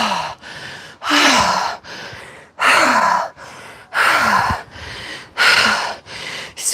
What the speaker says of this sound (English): Excuse me, the high breathing